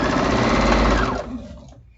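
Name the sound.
sewing machine sewing charm squares for a quilt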